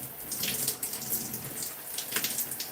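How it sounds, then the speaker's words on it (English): Water poured over hair during detangling on wash day, a steady close splashing trickle with small gushes throughout, no voices. "We'll get a little bit more water"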